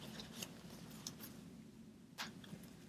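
Scissors snip through ribbon while a Christmas bow is being made, giving a few quiet, crisp clicks spread apart over a faint room hum.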